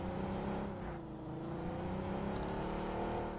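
A car in a shooter video game drives along continuously with a steady engine drone and mild revving, close and loud throughout, with no talk.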